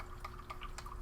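Water splashed while cooking a field ration, heard as a quick run of close, faint drips and small wet taps over a low background hum.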